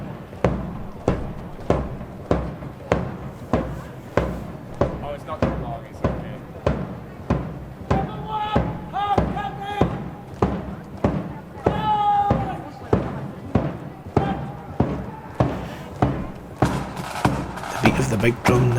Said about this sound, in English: The big drum never stops.